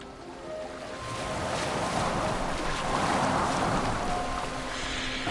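A boat sails across water in a Kratos video game, a continuous wash of rushing water and wind that swells slightly and carries on steadily with no talk.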